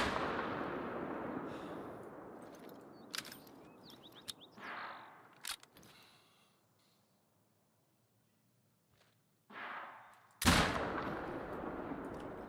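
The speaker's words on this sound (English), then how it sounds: "I think I'm actually firing too high on that." Several gunshots ring out in a hunting video game, with a loud blast near the start, scattered sharper reports in the middle, a quiet gap, then a very loud close shot followed by a decaying echo.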